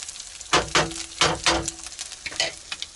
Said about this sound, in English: Just going to make some scrambled eggs